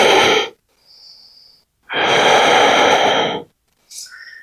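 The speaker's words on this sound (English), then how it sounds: "Big exhale." A big deep exhale during a yoga flow, a long breathy rush of air standing alone between shorter breaths, close and fairly loud in an otherwise quiet room.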